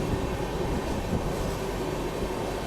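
Gomti Express passenger train approaching, a steady loud rumble of wheels on rails with a continuous roaring wash of noise and no clear pauses.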